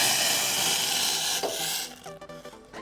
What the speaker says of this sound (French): Vous prenez une cuillère et vous mélangez jusqu'à ce que ça vous fasse une bonne pâte.